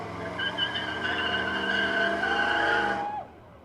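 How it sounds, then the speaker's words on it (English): A street drag racing vehicle in a town parade skids with a loud, sustained tire squeal and engine roar that holds steady for about three seconds, then cuts off abruptly. "Drag racing street vehicle."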